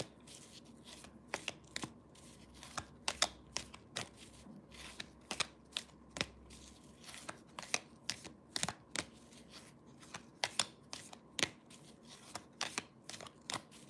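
Tarot cards being shuffled during a reading, a long run of crisp, rapid riffling snaps in uneven bursts, close and quiet, with no voices.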